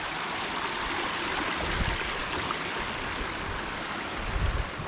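A small stream flows under a little footbridge along a trail in Bosnia, producing a steady, full rush of water with no voices.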